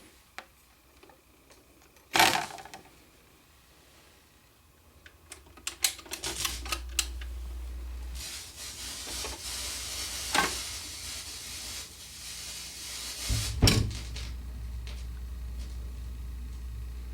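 A Collaro record turntable running after repair and oiling, giving a low motor hum with scattered mechanical clicks and clunks as the mechanism cycles. Several louder thumps stand out over a quiet background.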